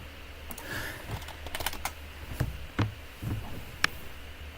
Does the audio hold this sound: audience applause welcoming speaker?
no